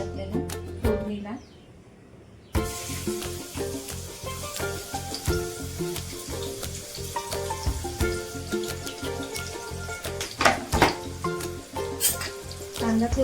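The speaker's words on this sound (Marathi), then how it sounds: "आता पहिला कांदा टाकायचा आपल्याला फोडणीला." Onion dropped into hot oil in a kadhai for tempering, a brief quiet before a sudden burst of sizzling that carries on steadily with stirring clicks and scrapes close by.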